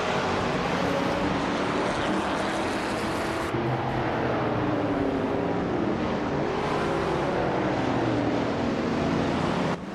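A 1973 Lancia Stratos race car engine in a racing video game drones continuously at a steady, loud level, with shifting engine tones and a brief jump in pitch partway through. No one speaks.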